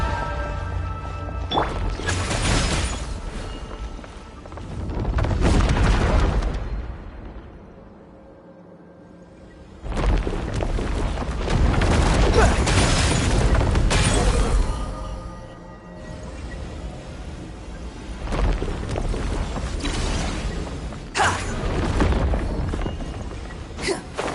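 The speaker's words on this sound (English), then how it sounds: "That wall could be a problem. Fortunately, it looks breakable." A breakable wall gives way in Genshin Impact with loud, heavy booming crashes and rumbling impacts in several long surges and brief lulls, filling the game's sound.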